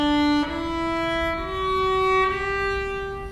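An octave tuned against an open G string rings as a sustained, clear string tone with rich overtones, its pitch shifting slightly twice as it is adjusted, heard alone with no talk.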